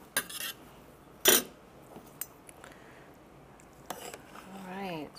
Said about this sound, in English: I'm going to dish this up a little of this